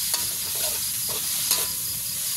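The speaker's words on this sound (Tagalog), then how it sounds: "Ay, luto naman ng chop suey" Chop suey stir-fried in a pan for a New Year's dinner, a steady hiss of sizzling with a few sharp scrapes and clatters of the spatula against the pan, close and continuous with no talking.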